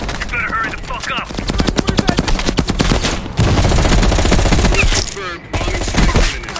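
A heavy machine gun rattles in rapid, sustained bursts in the Call of Duty: Cold War campaign, loud and close, with dense battle noise and brief gaps between volleys.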